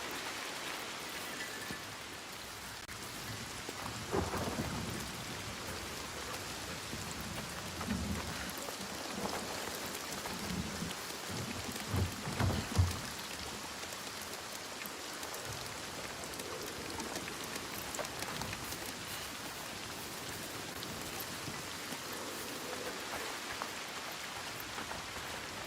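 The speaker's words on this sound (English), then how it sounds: "The constant storm." Rain of a storm in the video game Senua's Saga: Hellblade II falls steadily as a dense hiss, with low distant thunder rumbling softly now and then, without speech.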